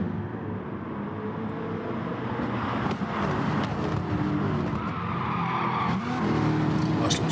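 A Lamborghini slides sideways in the GT Sport racing game at Interlagos, its tires skidding and squealing over steady engine roar, loud and continuous throughout with other race cars around.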